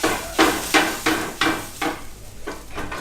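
Chef cooking sausages in a kitchen, with rhythmic repeated scraping and clattering strokes of a utensil against a pan, about eight strokes in even succession, loud and close.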